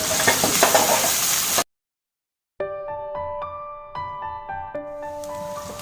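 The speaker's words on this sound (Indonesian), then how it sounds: "saya tumis dulu bawang bombaynya sampai" Onions sauté in oil in a pan while Suriname-style chicken is being prepared, giving a dense crackling sizzle with stirring. After an abrupt cut to silence, a gentler, quieter frying follows alongside soft clinks and tonal ringing.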